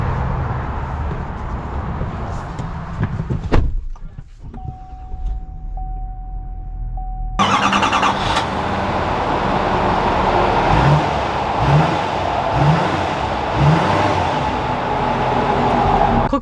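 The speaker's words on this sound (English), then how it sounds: "let's take this Denali out and see how it drives" A GMC Sierra 3500 Denali heavy-duty pickup truck rumbles, then its engine roars up sharply and settles into a loud, steady drone as it pulls away, with a few rhythmic thumps underneath.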